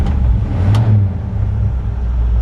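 A 1954 Ford F100 pickup with a 302 V8 runs close by, its deep, steady engine rumble swelling in one brief rev before settling back.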